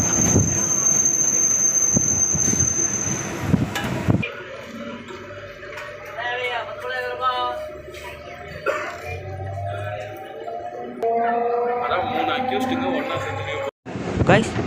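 A suburban train rolls into Guduvanchery station with steady rumbling, rattling carriages and squealing wheels, while a person talks over the noise nearby.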